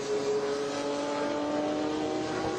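A Ginetta G12 and a Porsche 924 race past at the Watkins Glen circuit during an SVRA vintage race, a loud, steady engine roar close by with no talk.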